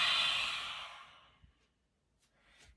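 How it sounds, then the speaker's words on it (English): A long, breathy exhale pushed out through an open mouth during a throat chakra yoga session, loud at first and fading over about a second, then quiet soft breathing with no talking. "Open the mouth, breathe it out."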